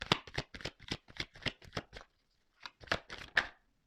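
Tarot cards shuffled by hand in a quick run of crisp riffling bursts, a short pause, then a few more brisk shuffles, close and clear with no talking.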